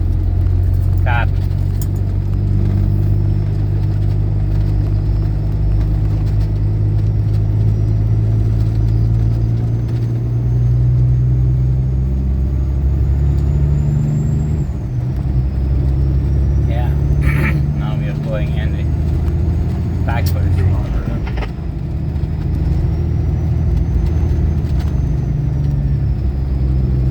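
A car drives along a hilly road with a steady, loud low rumble of engine and tyres throughout, while people talk over it.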